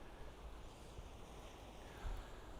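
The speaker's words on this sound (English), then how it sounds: "just getting the waves sort of just ebbing and flowing over the rocks there" Ocean waves wash over sharp rocks on the South Wales coast, a steady broad roar of surf mixed with wind rumble on the microphone, faint and distant, swelling slightly near the end.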